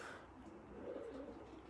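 Racing pigeons in a loft give low, soft coos, faint and somewhat distant, with no talking over them.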